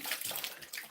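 Tap water runs into a basin for washing fresh garden mint and coriander, a steady close splashing rush with brief surges, heard alone with no voices.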